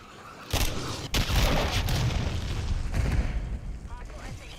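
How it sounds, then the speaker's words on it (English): A friendly cruise missile strike in Call of Duty Modern Warfare III, heavy booming explosions that hit in sudden bursts and then leave a rumbling roar, with game voice callouts mixed in. "Friendly cruise missile deployed"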